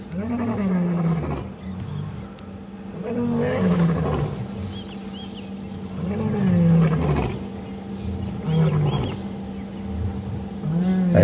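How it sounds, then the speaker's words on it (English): Several lions roar at dawn in a game reserve, their deep, moaning calls rising and falling in repeated bouts that overlap one another, loud and fairly close amid a low background rumble. "At least 3 lion talking right now."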